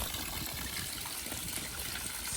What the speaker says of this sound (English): I'm power filling this with the 2 hoses